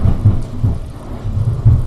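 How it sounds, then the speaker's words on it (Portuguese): Heavy rain falls steadily outside in Bragança while low rumbles of thunder roll through, a dense, loud wash with no voices. "Eventualmente vocês vão ouvir alguns barulhos, está chovendo forte aqui em Bragança"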